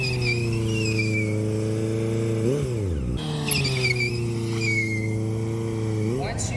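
A big motorcycle drifts sideways on a locked-up tire: a steady loud engine drone dips and drops in pitch, then revs back up, with a brief rough scrub as the tire slides.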